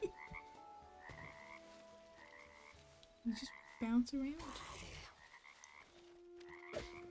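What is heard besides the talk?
frog croaking in the video game Hytale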